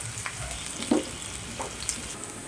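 Chopped onions with green chillies sizzle softly in a pan, a steady low frying hiss broken by a few light stirring scrapes.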